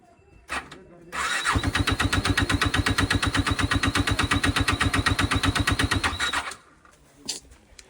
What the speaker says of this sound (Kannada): ಚಳಿ ಅಲ್ವಾ, ಗಾಡಿ ಸ್ಟಾರ್ಟೇ ಆಗ್ತಿಲ್ಲ.